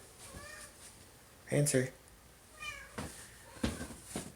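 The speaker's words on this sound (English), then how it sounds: "this is my cat again" A house cat meows a few times at close range, short pitched calls rising between and over a person talking nearby in an indoor room.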